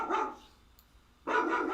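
A dog gives two short, sharp barks about a second apart, fairly close and with no talking over them.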